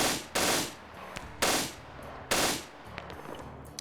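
Bursts of machine gun fire from MG3 and 240 guns in a tactical shooter match, three long loud volleys with short gaps between them, plus a few scattered single shots.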